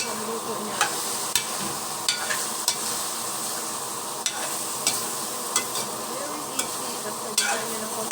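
Mung beans (balatong) stir-frying in a pan, a steady close sizzle broken by regular scraping knocks from the spatula roughly once a second.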